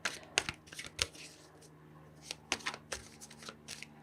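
Tarot cards are shuffled by hand in quick, crisp riffling bursts that come in uneven clusters with short pauses between them, close and fairly quiet, with no one speaking.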